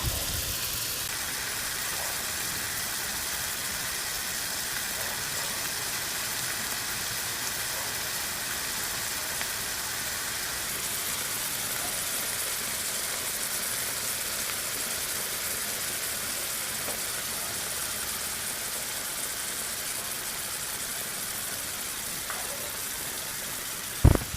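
Oil sizzles in a pan as shrimp fry with santol, a continuous soft crackling hiss that stays even and close for the whole stretch, with no voices over it.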